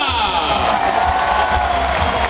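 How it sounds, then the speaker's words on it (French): Crowd ovation at the Rally Alsace 2012 podium in Strasbourg for second-place finisher Jari-Matti Latvala of Ford, a loud, steady wash of outdoor cheering and applause with shouts mixed in. "Je vous demande une ovation, s'il vous plaît, pour celui qui termine deuxième, monsieur Jari Matti Latvala"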